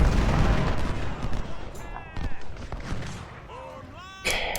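Musket and artillery fire in the Civil War strategy game Ultimate General: Civil War rumbles as scattered booms and crackling volleys, moderately loud, mixed with game sounds and occasional tonal effects.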